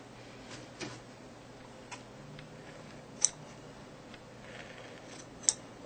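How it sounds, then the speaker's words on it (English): Scissors snip away excess fabric at a seam allowance during sewing, giving a few sharp, isolated clicks near at hand over a quiet room hiss. "cut away that extra"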